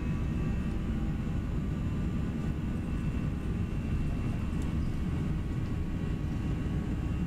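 Steady, loud broadband roar of a ToLiss A319 airliner's engines during a takeoff roll in X-Plane 11, a continuous low-heavy rumble with no breaks, running evenly throughout.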